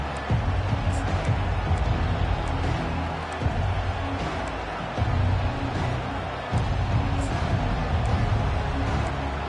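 Stadium crowd in a Madden football video game roars at full throat, a broad sustained swell of cheering that rises and dips in waves, loud and continuous, with commentary-like voice mixed in.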